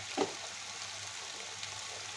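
Potato and pointed gourd being sautéed in spices, with a soft, steady sizzle of oil in the pan and a brief stirring scrape near the start.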